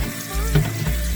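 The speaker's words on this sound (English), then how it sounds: "I'm going to turn on the cold water and I'm going to give it a quick rinse" Cold tap water runs into a kitchen sink to rinse freshly cooked pasta for mac and cheese, a steady close splashing rush with no one talking.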